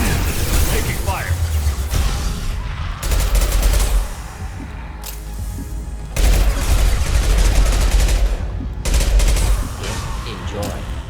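Repeated bursts of automatic gunfire in a Mass Effect battle, loud and close, coming in several sustained volleys of two to three seconds each with brief lulls between them, over a dense game soundscape.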